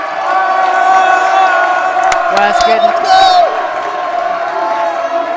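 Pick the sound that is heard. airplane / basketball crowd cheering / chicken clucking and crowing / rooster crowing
basketball crowd cheering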